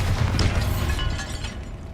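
In Hogwarts Legacy, the Bombarda spell goes off as a dense booming blast with rumbling debris. The burst is loud at first and fades over about two seconds.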